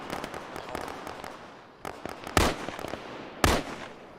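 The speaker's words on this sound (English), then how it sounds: "You're firing at friendlies?" Gunfire in the military shooter Arma 3 during a squad fire-and-manoeuvre training session: rapid bursts of distant pops, then two sharper, louder single shots standing out against the rattle.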